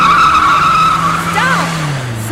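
A car skids with a loud tire squeal, then its engine pitch falls as it speeds away, all short and close.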